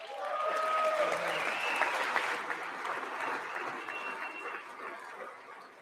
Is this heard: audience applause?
yes